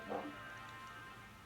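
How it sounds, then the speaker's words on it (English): Neighbors' dogs barking in the background, a brief bark burst near the start followed by faint continuing yelps and whimpers, distant and low under a steady room hum. "Neighbors' dogs are barking"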